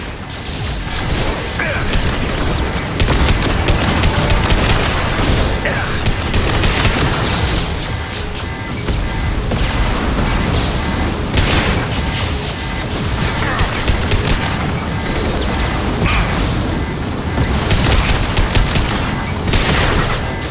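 Heavy weapon fire and explosions fill a Mass Effect 2 battle on Insanity difficulty, with loud, continuous bursts, crashes and booming blasts over twenty seconds and no pause.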